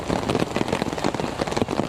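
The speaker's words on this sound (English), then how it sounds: "the rain has really started coming down now." Heavy rain pouring down at an under-11s league football match between Albion and Queensbury, a dense, steady patter that stays loud throughout with no voices over it.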